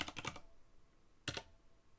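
Two short bursts of computer keyboard typing during a text adventure game, a quick cluster of keystrokes followed by a pause and then another brief flurry, close and crisp with no talking.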